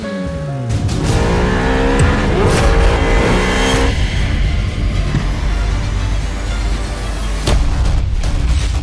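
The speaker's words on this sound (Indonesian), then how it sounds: "Kalian nggak lihat jalan, nabrak mobil sport aku" A car slams into a sports car on a street beside a sidewalk: loud engine roar, screeching tires and several heavy bangs of impact crowd together in a dense, chaotic burst.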